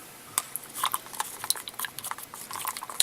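Acrylic pouring paint being stirred in a cup, giving light scraping taps and small clinks of the stirrer against the sides in an irregular patter, close and quiet with no talk.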